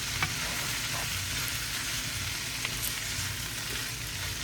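Butter melting and sizzling in a hot frying pan for a beef, peppers and onion stir fry, with a steady, even crackle throughout.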